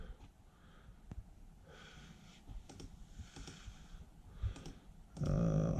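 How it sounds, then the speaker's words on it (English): Computer mouse clicks: a few sharp, sparse clicks spaced over several seconds against a low background hum, followed by a louder burst of noise at the end. "Clicking out full screen"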